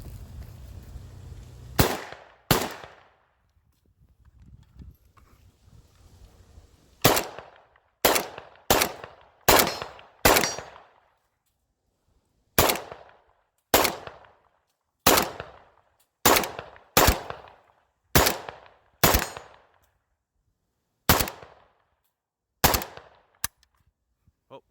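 A PSA AK101 rifle fires about fifteen loud, sharp single shots at uneven intervals, each with a short echoing decay, separated by silence. The firing stops after a short-stroke malfunction.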